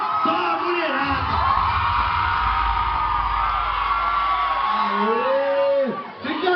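Women in a crowd at a funk MC battle shout and cheer for Borel. The sustained, loud, high-pitched yelling and whooping fills the space for several seconds, and a few individual voices rise at the end.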